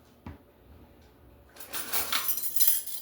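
Utensils and cookware clink and rattle in a kitchen drawer during a hunt for a measuring spoon while cooking smash burgers, starting with a single knock, then a busier stretch of metallic jangling and clatter, close by with no talk.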